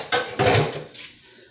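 A dish set down in a kitchen sink makes two quick, close clatters of crockery against the basin, followed by a brief fading rattle and then quiet.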